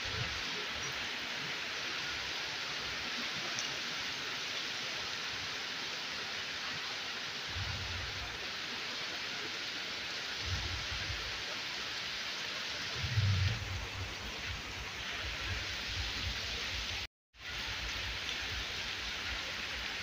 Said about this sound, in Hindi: तो बाहर केते वर्षा होची तो देखिले